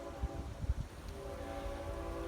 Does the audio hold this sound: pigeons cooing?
no